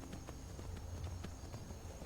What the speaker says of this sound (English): Just riding my horse